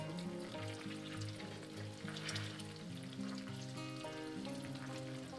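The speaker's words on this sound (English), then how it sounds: "what you're doing is you're basically frying those little sage leaves" Sage leaves fry in brown butter with a soft, continuous sizzle and crackle, steady and close throughout with no talking.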